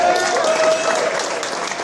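An audience at a film screening applauds Jaws co-writer Carl Gottlieb with dense, sustained clapping from a crowd that stays strong throughout.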